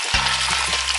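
Pieces of pork fry and brown in hot oil for a corn stew, giving a loud, steady crackling sizzle with a few brief lower bumps as the meat is turned.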